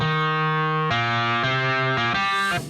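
A distorted, overdriven Keyscape clavinet preset with a guitar-like tone plays a sustained chord that steps through four changes, loud and up close, then its release tails off at the end.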